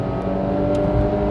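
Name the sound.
Renault Logan 1.6 SCe engine revving to high rpm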